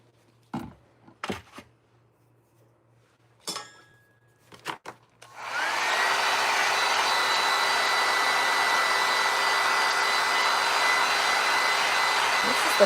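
A heat tool drying a salt wash on a Halloween craft bottle: after a few scattered knocks and taps, the tool switches on and blows a loud, steady, whining hiss that holds evenly to the end.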